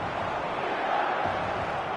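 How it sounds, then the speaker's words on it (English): A stadium crowd in an eFootball match, a dense, continuous roar of many voices that swells slightly midway, with no commentary over it. "The crowd are calling for this to be put to bed"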